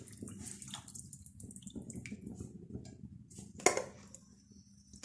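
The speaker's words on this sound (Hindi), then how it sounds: "चिकन जो हमने बॉईल करने के लिए रखा था ये अब इसमें बॉईल होना शुरू हो गया है" About four glasses of water with chicken in a pot come to a boil, a steady watery bubbling and simmering hiss with a brief clink of cookware midway.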